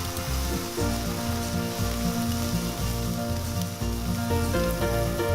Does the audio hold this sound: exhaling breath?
no